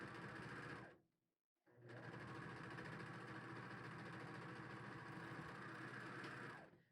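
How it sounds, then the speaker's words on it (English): A serger stitches the side seam of a T-shirt with a fast, loud mechanical whir. It stops briefly after about a second, then runs steadily again before winding down. "So now we've done one side with the serger"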